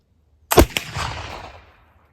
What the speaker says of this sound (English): Shot number 1, and I've already taken a fouling shot with the 2F 76-12-12.